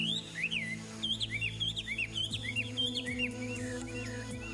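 Several birds chirp and whistle in quick, repeated rising and falling notes, clear and fairly close, over a low steady hum.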